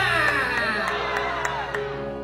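A church congregation shouts and cheers together in a loud, sustained roar of voices with scattered whoops, continuous and close throughout.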